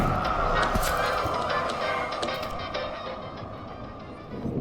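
Spectral crows in the video game Mind Over Magic, a dense cawing flock over a steady loud noisy bed, with repeated sharp calls that thin out toward the end.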